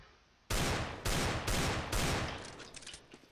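Rapid pistol gunfire in the CS:GO video game: several loud, close shots in quick bursts, each a sharp broadband crack, with fainter trailing shots and echoes fading out at the end.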